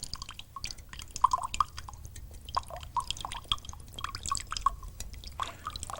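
Water dripping and trickling back out of a comedy funnel during a magic trick, a run of small irregular drips and splashes close by over a faint low background hum.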